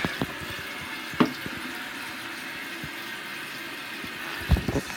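A toilet tank refills with water after a flush, with a continuous hiss of water and a few sharp knocks and clunks from the fixture.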